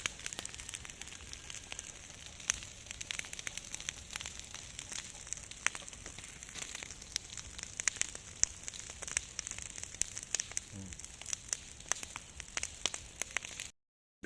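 A fire burning farm rubbish crackles and pops steadily in a dense, irregular patter with a continuous hiss, moderately close and without voices.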